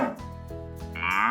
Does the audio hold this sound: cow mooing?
yes